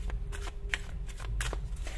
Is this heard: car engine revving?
no